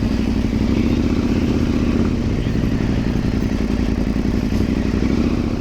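A 2024 KTM 890 Adventure Rally with WP Explorer Pro suspension rides off-road, its engine droning loud and steady throughout, with clattering and thumps from the rough terrain mixed in.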